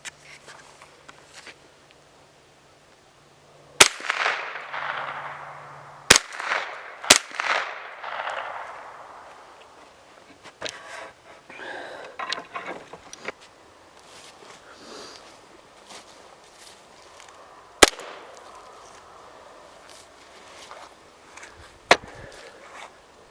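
Coon gun fired at a possum about 45 yards off at night in the woods: a sharp loud crack early on, then further sharp impulsive hits spread apart among footsteps, rustling and quiet outdoor ambience.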